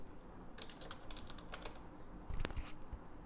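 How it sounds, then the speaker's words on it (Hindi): Quick bursts of keystrokes on a computer keyboard while entering an Excel formula, soft clicks in short clusters with a louder tap near the end, fairly quiet. "इक्वल का साइन प्रेस करना है और यहाँ पे टाइप करना"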